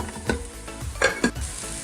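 Masala and two finely chopped tomatoes sizzle in hot oil for a mutton biryani gravy, with several distinct scraping stirs breaking through a steady close frying hiss.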